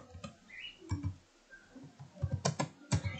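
Keys clatter on a computer keyboard while typing in Microsoft Word 2007, an irregular patter of close clicks with brief pauses and a denser burst toward the end. No one talks.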